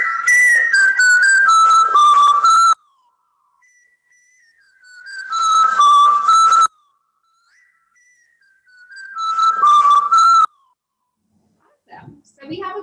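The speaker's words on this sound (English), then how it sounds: "So we have a cool little melody loop for some inspiration here" Melody loop played back in beat-making software, three repeated phrases of a bright, whistle-like synth line separated by quiet gaps with faint sustained tones, ending with a brief bit of talk.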